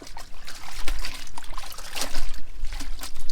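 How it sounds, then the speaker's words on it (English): Soapy laundry water sloshes and trickles as it is agitated in a 7-gallon bucket, uneven splashy pulses close by, with no talking. "we just keep agitating from our little 7-gallon bucket"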